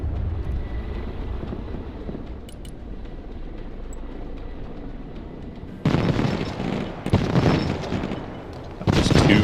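Heavy explosions and bombing rumble across a modern-warfare battlefield in the real-time strategy game Broken Arrow, a low steady roar building into three loud, broad blasts in the last few seconds.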